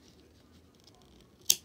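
A single crisp snip of scissors cuts through crochet yarn after a near-silent pause, short and close.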